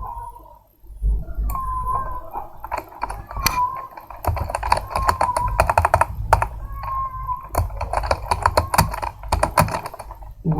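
Rapid bursts of typing on a computer keyboard, close and crisp, with clustered clicks broken by short pauses.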